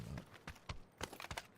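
Footsteps in a video game sound as a string of quick, muffled thuds, a few steps with uneven spacing, fairly close and moderately loud, with no talk over them.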